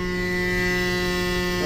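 A Malossi-tuned scooter engine screams at around 11,000 rpm on a dyno in Malossi's Italian workshop with a cooling fan running, a steady, loud, high-pitched mechanical whine held throughout.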